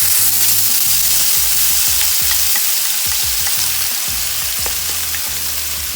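Puerto Rican sofrito of onions and peppers sizzles steadily in olive oil in a pan, a loud, dense frying hiss with repeated soft stirring scrapes and no voices.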